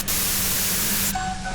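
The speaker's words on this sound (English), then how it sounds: "Her voice trails off into white noise in your head" Dense static hiss from the video game Disco Elysium fills the sound, steady and loud with a low hum beneath, cutting off abruptly near the end into a fainter tone.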